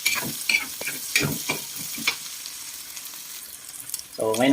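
Sautéed onions stirred in a pan while cooking ginataang santol with gabi, with scraping utensil strokes over a steady sizzle, close up, irregular rhythm, ending in a brief louder clatter.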